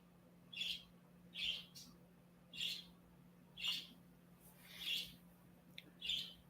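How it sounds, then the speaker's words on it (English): Birds calling outdoors, loud bursts of chirping squawks repeating about every second in a steady rhythm over a low constant hum, with no talking. "look at them birds and they're raising hell today"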